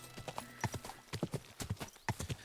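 Horse hooves clip-clop in a steady trotting rhythm in Kingdom Come: Deliverance 2, close and distinct, with a brief whinny partway through and faint game ambience behind.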